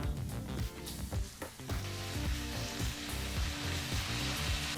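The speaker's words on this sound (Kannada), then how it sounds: "ಈಗ ಈ ಸೊಪ್ಪನ್ನು ಒಗ್ಗರಣೆಗೆ ಹಾಕ್ಕೊಳ್ಳೋಣ" Washed drumstick leaves go into a hot oil tempering and sizzle loudly up close. The crackle runs on and off in short bursts and settles into a steady fry, with no voices.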